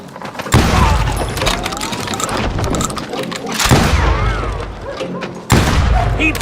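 Gunfire from Call of Juarez: Gunslinger booms in heavy bursts with thuds and shattering debris, loud and dense, interrupted by short gaps, with game dialogue shouted beneath the shots.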